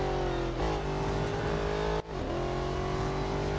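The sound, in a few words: car engine accelerating in the Real Racing 3 video game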